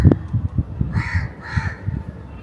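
A crow caws twice in quick succession, loud and fairly near, each call a harsh drawn-out rasp, over a background of low irregular thumps and knocks.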